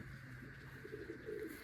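A satinette pigeon gives soft, low coos, faint and close, in a short burst of rolling murmurs over a quiet background.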